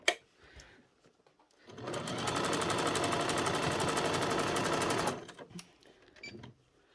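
A sewing machine runs in one steady burst of about three seconds while stitching elastic onto a doll's pyjama bottoms, loud and close, with quiet handling noises before and after.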